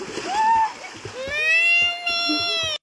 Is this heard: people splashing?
yes